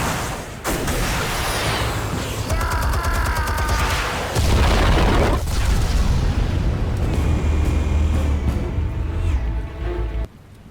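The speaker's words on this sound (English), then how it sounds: "Explosives armed. Fire when ready." Explosives detonating in the Batman Telltale Series game on PS4, a string of loud booming blasts and gunfire-like cracks with rumbling decay, ending in a sudden cutoff.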